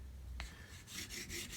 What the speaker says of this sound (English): It just starts to polish the edge of the fret.